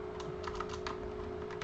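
Quiet, quick keystrokes tap out an irregular patter on a QWERTY computer keyboard, over a low steady hum of room or computer noise.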